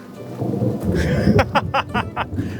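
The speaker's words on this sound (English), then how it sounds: "it seems like we need a little bit of protection from the rain" Deep rolling thunder rumbles outdoors at a chateau in the south of France, joined by rain pattering on surfaces and a series of sharper cracking bursts toward the end, loud and close.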